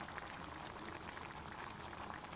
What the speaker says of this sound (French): Tagine qui est en train de cuire.